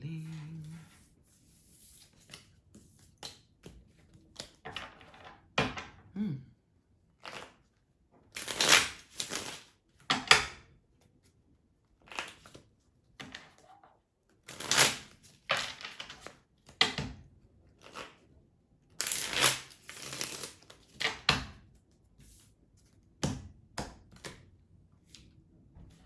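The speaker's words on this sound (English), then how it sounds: "I must collect all the cards and do the reshuffling" Tarot cards are shuffled in repeated bursts of riffling and slapping, close and crisp, separated by short pauses across the whole stretch.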